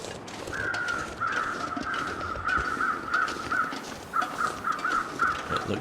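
Crows cawing in The Long Dark, a survival video game: a steady run of harsh caws repeating in quick bursts throughout, moderately loud over a soft background hiss, with a short gap before the calls resume.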